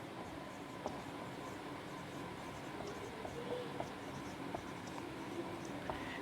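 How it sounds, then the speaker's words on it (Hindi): Marker or chalk tapping and scratching on a classroom board, faint irregular strokes with small clicks against a quiet room hiss. "फिर मैं एक तीसरा स्टेटमेंट और लिख देता हूँ"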